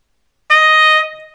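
A single sustained F on a B-flat piccolo trumpet, bright and clean with rich harmonics, held for about half a second before decaying, played alone.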